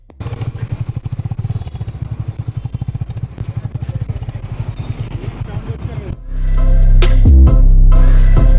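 A Royal Enfield Meteor 350 motorcycle on a test ride thumps out a rapid, steady single-cylinder exhaust beat up close, then gives way to a loud rush of wind buffeting as the bike gathers speed.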